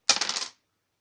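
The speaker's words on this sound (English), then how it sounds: "where can I roll these dice without just demolishing things?" A short clatter of dice tumbling on a tabletop wargame table, a quick run of bright rattling clicks that dies away within half a second.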